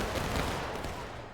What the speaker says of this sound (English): You're shooting, you're kind of blind shooting through the woods here.